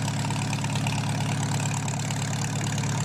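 Farmall 4m series tractor engine idling in Farming Simulator 19, a steady low rumbling drone with a faint rhythmic chug, constant and loud throughout with no talk.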